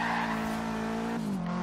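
Subaru WRX tires skidding and squealing through a sustained drift in Forza Horizon 3, a steady loud screech over the engine's drone that shifts pitch and eases near the end.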